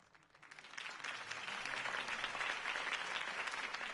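Steady applause from a large crowd, building over the first second and then holding loud and even to the end.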